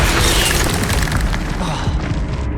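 Spell impacts in Hogwarts Legacy land as dense, continuous booming blasts, loud and close throughout with little pause, thinning slightly toward the end.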